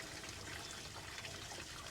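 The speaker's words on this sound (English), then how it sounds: "Once you've successfully flushed in one direction, go ahead and back flush it the other direction." Water from a hose back-flushing a car radiator, a steady broadband rush and trickle that holds even and fairly loud for the whole stretch, with no voices.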